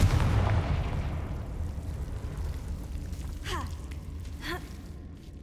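Casting the Confringo fire spell in the Hogwarts Legacy video game sets off a loud explosive burst that quickly decays into a rumbling tail, followed by two quick whooshing sweeps.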